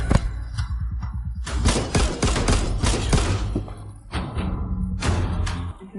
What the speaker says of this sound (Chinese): 51式手枪，弹夹容量8发